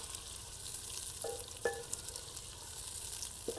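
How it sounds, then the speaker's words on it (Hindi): Chicken gizzard and liver fry with onions in a pan, giving a steady close sizzle broken by a few light clinks of a spoon stirring. "और अब हम ना इसमें डाल देते हैं ये पोटा कलेजी। इसको ना थोड़ा सा पहले फ्राई कर लेते हैं,"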